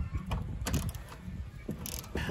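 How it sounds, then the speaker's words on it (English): Rapid bursts of clicking from a socket wrench ratcheting while a prefab chicken coop is assembled outdoors, several short runs of clicks spaced across the moment, fairly close but modest in level. "A socket wrench and a Phillips screwdriver."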